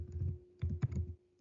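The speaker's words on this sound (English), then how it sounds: "I'll type it." Fingers tap on a computer keyboard in a quiet room, giving a few short, light bursts of keystrokes with brief pauses between them.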